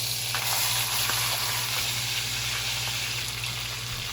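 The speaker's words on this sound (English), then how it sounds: "because there's spluttering oil everywhere" Hot oil spluttering and sizzling around a standing rib roast as it sears in a pan, a steady close crackle with scattered pops and a low hum beneath, no voices.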